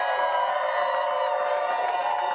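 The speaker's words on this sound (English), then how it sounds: "we got to get the crowd to calm down just a bit" A dense crowd cheers and whoops continuously at Senator Tim Scott's election-night victory event, a steady loud roar of voices with no pauses.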